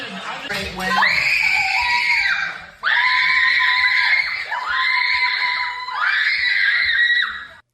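Little girls shriek in loud, sustained, high-pitched bursts as Taylor Swift appears on screen during a televised football game. There are about four long screams in a row, with short breaks between them.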